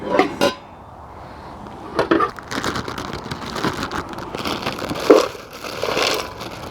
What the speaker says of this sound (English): Let's get a pot ready for this.